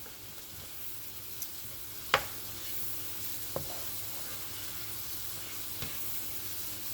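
Steady low sizzle of seafood dressing vegetables sweating in a hot pan, a soft continuous hiss broken by a few faint clicks of a utensil against the pan.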